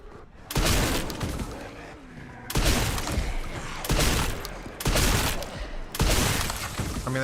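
Heavy shotgun blasts ring out in the horror game Resident Evil Requiem, five booming shots at roughly one-second intervals, each loud and close with a crashing, shattering tail.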